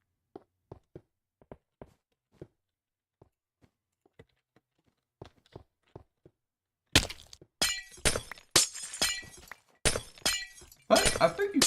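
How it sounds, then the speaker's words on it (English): Glass blocks shattering in Minecraft, a run of short crisp breaking bursts in quick succession that grow louder and denser in the second half, after a stretch of faint soft clicks and taps. "But I think you couldn't insta-mine glass."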